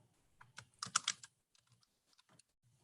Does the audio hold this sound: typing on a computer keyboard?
yes